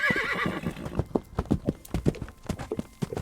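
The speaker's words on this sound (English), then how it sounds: "As Prince Ahmed mounted his horse and bid his final adieu to the fairy, he set off on his journey back home" A horse whinnies at the start, then hooves clip-clop steadily in a close, even rhythm, with no talk over it.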